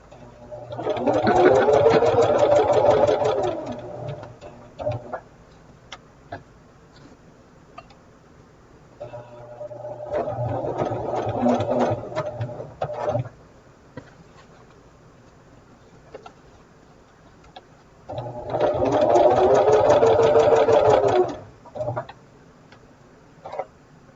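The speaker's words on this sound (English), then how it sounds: "just to hold that down as it goes under the machine, under the presser foot" A sewing machine stitches quilt fabric under the presser foot in three whirring runs of rapid, even ticking, separated by quieter pauses with light handling sounds, close and moderately loud.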